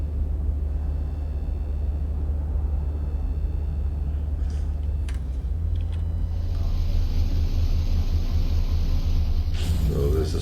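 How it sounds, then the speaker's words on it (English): A stormy, foggy alien planet in the video game No Man's Sky gives off a steady, loud low rumble of wind and storm noise, swelling slightly in the second half, with hissing gusts layered on top. "So there's a storm."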